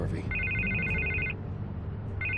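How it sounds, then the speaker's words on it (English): A telephone rings inside a Batman video game, sounding in two bursts of a bright electronic bell tone over a constant low background hum and game ambience, with a voice talking alongside. "I can't get the phone to stop ringing"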